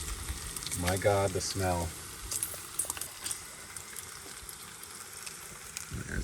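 Thick bacon sizzles and crackles in a pan with a steady frying hiss, faint and continuous, while someone speaks briefly over it early on.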